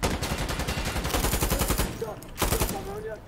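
PKM machine gun firing in the video game Insurgency Sandstorm: loud, rapid automatic bursts with a dense rhythmic cadence, a brief pause near the end, then another short burst.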